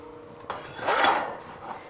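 Half a cup of diced carrots, from two medium carrots, slides into a pot of Schezwan soup as it comes to a boil, making one soft scraping rush with faint clatter over a quiet kitchen background.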